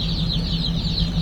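Baby chicks cheep in the back of a vehicle, a steady chorus of high, wavering peeps that runs unbroken under a low engine hum.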